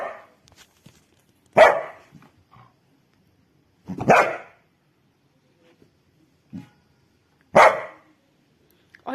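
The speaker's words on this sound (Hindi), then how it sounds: "उल्टा मेरे ऊपर भौंकता है, बदतमीज लड़का" A dog gives three sharp, loud barks spaced a few seconds apart indoors, with quiet gaps and faint small noises between them.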